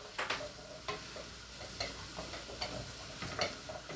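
Soup being stirred and mixed in a pan on the hob with half a teaspoon of cumin, giving repeated scraping and sizzling strokes at an irregular rhythm, close and moderately quiet, with no talk.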